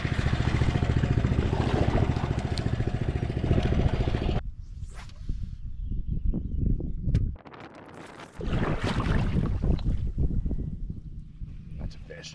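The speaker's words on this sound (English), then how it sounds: "a mud motor like what he's got. He's cranking it up now." A mud motor on a small boat on Minnesota floodwaters runs with a loud, steady mechanical drone. It cuts out abruptly partway through, and rough, wind-buffeted rumbling and handling noise follow before the engine noise picks up again.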